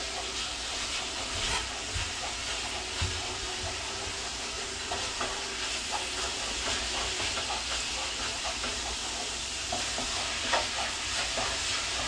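Seasoned meat simmering with half a cup of added water in a pan for a homemade crunchwrap, a steady close bubbling sizzle with scattered light stirring clicks throughout and no talking.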